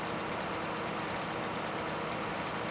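Steady tractor engine idling with low exhaust rumble in Farming Simulator 19, a Polish classic tractor mod, droning evenly and continuously throughout with no talk.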